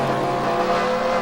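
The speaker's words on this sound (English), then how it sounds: "And Keith Stevens pulling away ever so slowly in his Chevrolet as he leads yet another lap." Chevrolet race truck engine droning steadily in a sim racing game during a truck series race at Tucson, a continuous loud mid-pitched roar with no break and no talk over it.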